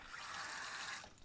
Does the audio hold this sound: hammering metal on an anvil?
no